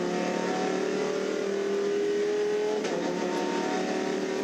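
From onboard a Lamborghini Huracan race car at the Bathurst 12 Hour, a loud, continuous engine wail climbs steadily in pitch, then shifts briefly as the car changes gear.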